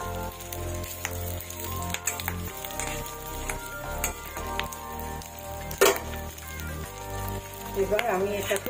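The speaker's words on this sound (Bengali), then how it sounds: "মাছের ডিম প্রচন্ড ফোটে।" Fish roe omelette batter sizzling and popping in hot oil in a kadai, a steady close crackle with sharper pops near the end.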